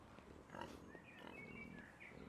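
Pigs in the medieval-set game Pentiment grunt and oink softly at low volume, with a steady farmyard murmur and a few faint higher chirps behind them.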